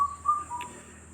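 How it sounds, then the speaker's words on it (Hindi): A bird gives a few thin whistled notes followed by a brief high chirp, fairly faint against a quiet outdoor background, with no voices. "पक्षियों का सुनना, पक्षियों को देखना।"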